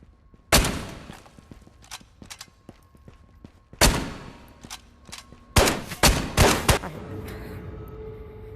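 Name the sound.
Springfield rifle gunfire in video game Ghost of Tabor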